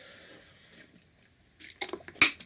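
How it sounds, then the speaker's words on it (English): Someone takes a quick swig of water after a quiet pause, with a few soft wet gulps and squishy mouth sounds closing the moment, close to the mic and with no talking. "Let me take a swig of water real quick."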